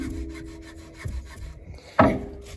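Worn upper A-arm bushings on a Jeep Commander's front suspension give close, dry rubbing and creaking sounds in irregular strokes, then one sharper creak near the end.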